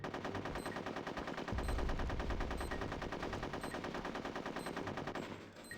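Guns fire in the video game Conker's Bad Fur Day in sustained rapid automatic bursts, loud and continuous for several seconds, with a heavier thumping layer joining partway through before the fire tapers off near the end.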